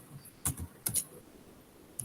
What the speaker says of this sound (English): We need to on the search bar simply type EC2.